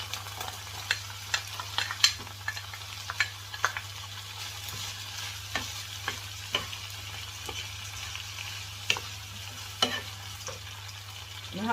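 Leeks and celery sauté in a pan with a faint, soft sizzle and repeated sharp ticks and scrapes of a utensil stirring against the pan. A steady low hum runs beneath it.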